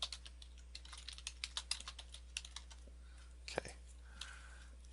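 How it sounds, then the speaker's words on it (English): Computer keyboard typing in a steady run of clicky keystrokes for several seconds, close and fairly quiet, pausing briefly before a final few taps, with one short spoken word. "Type some stuff here."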